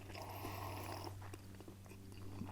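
Someone chews and bites cooked pike seasoned with spicy and lemon pepper flavors, faint crunchy mouth sounds over a steady humming background.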